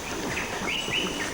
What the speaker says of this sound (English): They are tambourine doves,